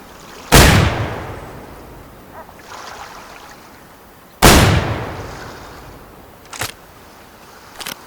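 Rifle shots in the hunting game Way of the Hunter, two loud booming reports each followed by a long fading echo, then a sharper, quieter crack near the end, with no voices.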